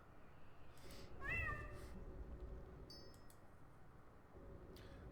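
A kitten pet meows a few times in World of Warcraft, a short rising mew standing out over a low rumbling game background, with faint chiming ticks afterward.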